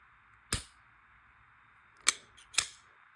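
Dry-fire trigger clicks on a Smith & Wesson M&P 2.0 pistol: three sharp, close metallic snaps, one alone and then a quick pair, over faint room hiss.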